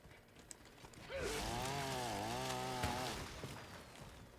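Chainsaw revving against a tree in Helldivers 2, a steady whining motor tone that swells in pitch for about two seconds then drops away, fairly close and loud, with no talk over it.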